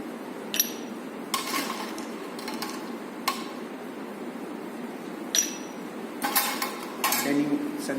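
Ice cubes clink into a glass during gin service, a few bright separate chinks over low room murmur and faint talk.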